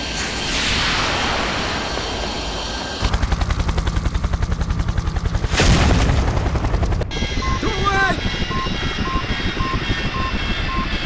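A missile launch and explosion in the video game Project IGI: a long roaring whoosh gives way to rapid rhythmic mechanical pounding, a second loud burst, then continuing rumble with electronic alarm-like tones, all loud and dense.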